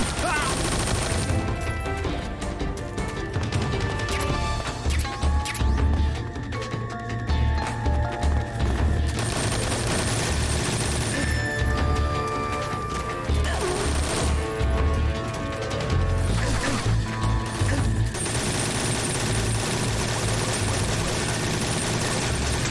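Sustained automatic gunfire in a Metal Gear video game as Big Boss mows down enemies, dense loud bursts with explosions and engine rumble, running almost nonstop.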